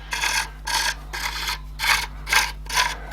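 A massive pepper mill grinding with a rhythmic rasping scrape, six regular strokes about half a second apart, close and clear over a low background hum.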